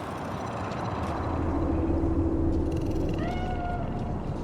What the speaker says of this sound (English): Do you see it? The cat.